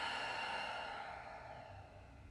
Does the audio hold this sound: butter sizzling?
no